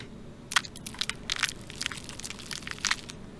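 Giant crab being eaten in the survival game Stranded Deep, a series of sharp, close crunching and cracking bursts spaced irregularly over a quiet background hum.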